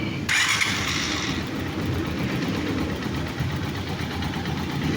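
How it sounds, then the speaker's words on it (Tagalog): A Honda TMX 125 motorcycle engine cranks and catches, then settles into a loud, steady close-up idle with a continuous rough mechanical rumble and no talking. "tapos na natin yung ating TMX 125. So, papaanda rin na natin."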